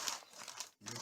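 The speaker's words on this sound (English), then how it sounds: "coffee filter right here. What I'm gonna do, fold it in half," A paper coffee filter is folded in half during a silver refining setup, giving close, dry crinkling and rustling bursts with a brief pause before more crinkling.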